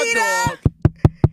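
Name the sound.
knocking at a door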